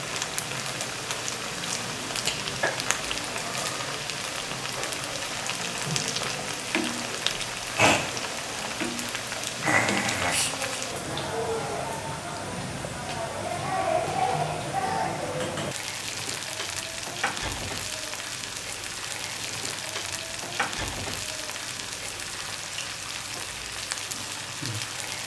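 Vegetable manchurian balls deep-frying in a pan of hot oil, a continuous bubbling sizzle with occasional louder crackles and stirring clinks, no talking.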